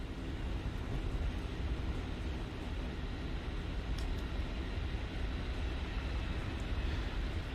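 Airplane engine in flight in a video game, a steady low droning roar that continues evenly at moderate loudness with no breaks and no talking.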